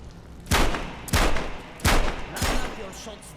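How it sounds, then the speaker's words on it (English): Gunfire in the VR shooter Metro Awakening on PSVR 2: four loud, close, booming shots spaced roughly evenly, each with a short ringing tail. "Line up your shots down the gun sights."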